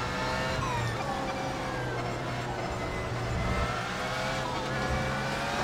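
A race car engine in iRacing screams at high revs while closing on slower-class traffic at Circuit of the Americas, with rising and falling gear-change sweeps and a continuous loud drone.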